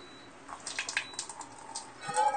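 Water from an RO purifier trickles and drips into a container, a short run of small wet splashes and droplets close by, swelling slightly near the end.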